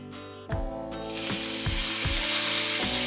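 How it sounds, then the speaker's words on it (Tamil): Mustard seeds spluttering and popping in hot oil during the tempering for Gujarati dhokla, a steady close sizzle with repeated sharp crackles that grows denser over a few seconds. "கடுகு வெடிக்குது"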